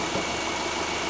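A remanufactured boxer engine in a Subaru Forester idles steadily and quietly from inside the car, giving a smooth, even low hum with no talk over it.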